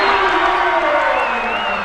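Loud, steady crowd cheering and whooping fills a college men's basketball gym during a Snow College vs. College of Southern Idaho game, continuous and close throughout with no clear speech.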